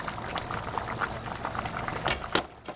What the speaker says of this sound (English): let's go ahead and siphon off some more of this artery clogging oil